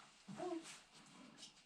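A dog named Rosie gives a brief, faint whimper, a short high whine near the start, followed by quiet room sound indoors.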